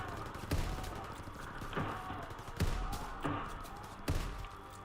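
Shotgun blasts in a first-person shooter, five heavy booms spaced roughly a second apart, each with a short echoing tail over low background noise.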